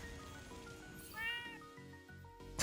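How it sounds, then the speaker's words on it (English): A house cat meows a few times close by, drawn-out rising calls over faint background game sounds. "Was that your cat?"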